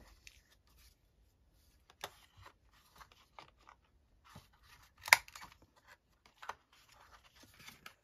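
Scissors snipping to round the corners of fabric pieces for a two-pocket belly band, a few soft scattered cuts with one sharper snip near the middle, close and quiet with no talking.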